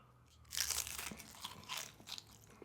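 Tortilla chips loaded with guacamole and spicy beef nachos are crunched close to the mic, giving a series of crisp, crackly bites and chews over about two seconds with no talking.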